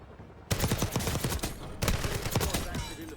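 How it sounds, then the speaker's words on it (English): Enemy gunfire in Warzone rattles out in two fast automatic bursts, close and loud, each a quick string of sharp cracks separated by a short pause. "These guys are still shooting at me."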